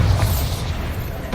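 Bombarda spell explosion in Hogwarts Legacy, a loud, heavy booming blast with a deep rumbling tail that fades over about a second, with no talk.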